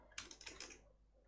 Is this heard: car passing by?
no